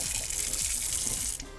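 Water runs steadily from a kitchen tap into a black glass sink, a continuous close splashing gush with no voices.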